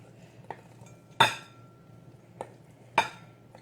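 A see-through glass bowl is picked up in a kitchen, giving a few sharp ringing clinks and light knocks spaced over a few seconds against quiet background hum.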